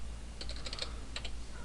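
Quick clusters of soft keystrokes tap on a computer keyboard as a place name is typed, two short bursts of clicks set against a faint steady hum.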